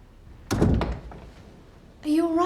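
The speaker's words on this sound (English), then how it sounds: "Shut the door, don't let anybody else in." A door shut with a solid, close thunk and brief rattle, a single heavy impact that fades quickly before a voice speaks.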